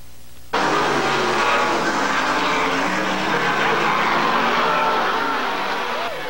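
Stock cars racing on a track, a loud sustained roar of engines that rises abruptly and holds steady as the pack passes close by, with no talk over it.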